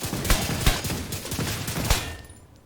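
Merciless rifle firing in the Division 2 video game: a rapid fusillade of close, loud shots with a few sharper bursts standing out, trailing off toward the end.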